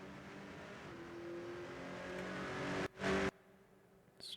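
A race car in Rennsport laps Spa-Francorchamps, its engine droning steadily and rising in pitch, then cut by a brief loud burst of noise before trailing off.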